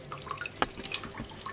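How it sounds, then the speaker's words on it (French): Water trickling and dripping from a tap into a bucket while acclimating neocaridina shrimp: a close, irregular patter of small splashes and drips over a soft running flow. "Ensuite j'ouvre mon robinette."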